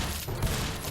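Rapid, loud shotgun fire from a Ludum Dare 40 video game, packed into a dense, overlapping burst with one heavier boom midway through.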